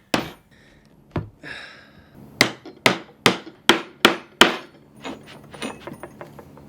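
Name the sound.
hammering a punch to make stitching holes in a leather sheath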